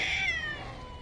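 A cat meows once as a sound effect in a dark cyberpunk audio drama, a single drawn-out, falling cry over a low ambient rumble, close and clear with no talking.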